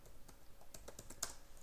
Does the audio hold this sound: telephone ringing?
no